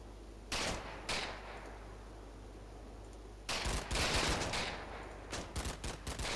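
Machine gun fire in the World War II game Combat Mission: Battle For Normandy crackles in bursts, a few sharp isolated shots early, then longer rattling volleys that carry on to the end, with no voices.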